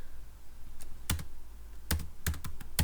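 Quiet, scattered bursts of keystrokes on a computer keyboard, a few quick clicks at a time with short pauses between them.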